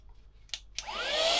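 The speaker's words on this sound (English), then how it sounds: "Vacuum cleaner with brush accessory." A boat's built-in vacuum cleaner with a brush accessory, set to blow air: a couple of sharp clicks, then a rising, steady high-pitched whoosh of blowing air, loud and close.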